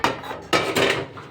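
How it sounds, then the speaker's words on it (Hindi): Pots and dishes clatter as they are gathered while cleaning a home kitchen, two sharp metallic clanks followed by rattling, close and loud. "बर्तन कर ली हूँ इकट्ठा"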